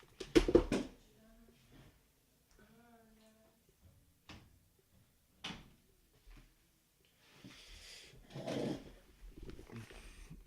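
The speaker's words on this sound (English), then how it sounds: "Hold on, I gotta close the door." A door is shut indoors during a casual talk show, with a few sharp knocks and thumps spread through the stretch, some speech and shuffling in between, fairly quiet overall.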